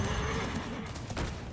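A loud, close horse neigh rings out from the Dreadsteed card in the Hearthstone card game; the whinny is layered over dense, crashing game effects and fills the whole moment.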